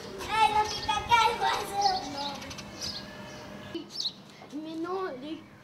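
Small sparrow chicks near a nest give brief, high, scattered chirps. Someone speaks close by through the first part, and the last seconds hold a few thin calls on their own.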